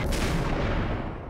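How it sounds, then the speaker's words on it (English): Sniper rifle fire in the video game Max Payne, a dense, loud burst of booming gunshot energy that fills the whole short moment without pause, with no talk over it. "Hey, sniper rifle. Extremely good shots."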